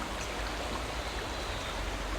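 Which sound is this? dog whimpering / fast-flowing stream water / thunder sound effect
fast-flowing stream water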